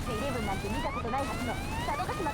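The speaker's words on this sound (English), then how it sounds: "This alarm." A wavering electronic alarm in the video game Muv-Luv Alternative, a rising and falling siren-like tone repeating steadily over low background noise.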